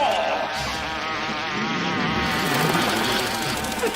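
A giant wasp in a Doctor Who episode buzzing loudly and close, a continuous droning insect whine that wavers in pitch, with no talking.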